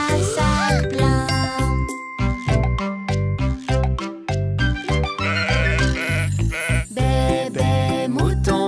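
Bleating sheep woven into a bright French children's nursery song with bells and chimes, loud and continuous under dense music.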